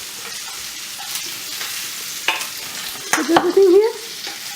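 Omelette ingredients with parsnip and pancetta sizzle in a pan under a low fry, with stirring clatter and a voice speaking briefly over the cooking.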